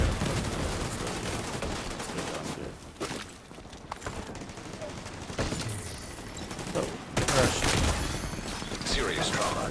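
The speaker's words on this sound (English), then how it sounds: "See, I'm shooting over." Bursts of automatic gunfire crackle almost without pause during a firefight in The Division 2, the shots dense and loud throughout, with voices talking over the shooting.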